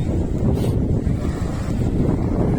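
Steady wind buffeting the microphone over the rolling wash of surf at Carbyn's Cove Beach in the Andaman Islands, a loud, continuous roar with no voices.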